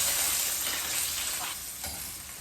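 Chopped garlic sizzling in a little cooking oil in a pan while sautéing bitter gourd, a steady, bright hiss that fades slightly near the end, with no talking.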